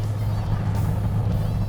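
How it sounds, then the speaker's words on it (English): A 1970 Plymouth Road Runner with a 440-6 engine and four-speed manual drives down the road, its engine a steady, close low rumble that holds unbroken throughout. "Really nice driving car."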